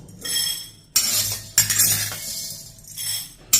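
Roasted black urad dal being tipped onto a plate, giving bright clinks and a dry rattling spill in several short bursts, close by.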